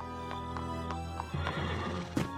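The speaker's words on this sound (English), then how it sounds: "James, take care of the horses." Horses neigh and whinny amid hoofbeats in an animated colonial-era scene, several sharp whinnies breaking over a steady clip-clop, with a louder call near the end.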